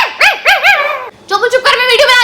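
A dog barking in a home, several loud close yelps and whimpering barks in quick succession.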